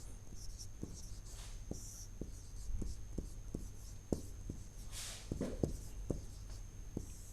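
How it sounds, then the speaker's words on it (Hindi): Pen writing numbers on paper, a series of soft, close scratching strokes and taps in an irregular rhythm over a low steady hum and faint background noise. "तो मैं संख्याएं लिख रहा हूं"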